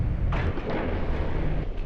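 Naval guns firing from warships in the Ultimate Admiral Dreadnoughts game, heard as a low, rumbling barrage of distant booms that merge into a continuous roar, with sharper bursts near the start.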